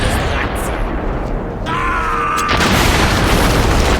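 A Kamikaze Darkling detonating in the video game The Darkness, a deep booming burst that rises out of a steady rumble of game noise, with a brief tonal whine mixed in.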